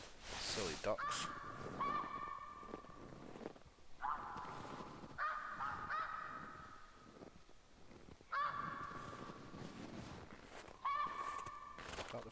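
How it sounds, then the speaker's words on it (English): Ducks calling in the hunting game theHunter Classic, a few bursts of honking quacks at moderate distance separated by short pauses, with faint footsteps and a voice speaking softly in between. "Silly ducks."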